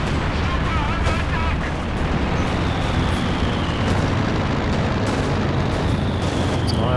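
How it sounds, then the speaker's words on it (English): Bombing strike in a Company of Heroes 2 battle, a loud dense rumble of explosions and crashing blasts filling the whole stretch, with a voice talking over it. "It's an IO2 bombing strike back here."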